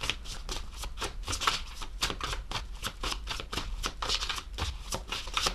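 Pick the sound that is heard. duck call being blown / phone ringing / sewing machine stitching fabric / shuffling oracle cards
shuffling oracle cards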